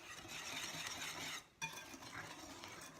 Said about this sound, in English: We're just gonna give that a stir